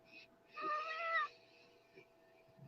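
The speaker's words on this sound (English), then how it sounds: "And there's the kitty cat." A cat gives one clear, drawn-out meow at moderate distance, preceded by a short faint chirp, with quiet background murmur and a few soft knocks afterward.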